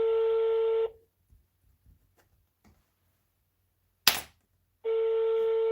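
A telephone call rings out with a steady electronic tone that plays twice, separated by a long near-silent pause broken by faint clicks and one sharp snap.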